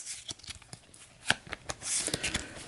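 A deck of turn order cards for the board game Astro Knights Eternity is shuffled close by, a quick run of riffling, papery flicks and snaps with no talking.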